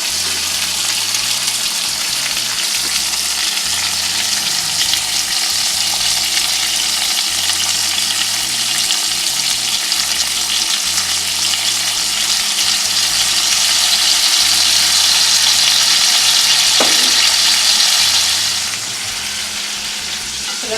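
Hawaiian slider patties sizzling loudly and steadily in a pan with sauce, a dense crackling hiss that swells briefly and then eases near the end, without talk.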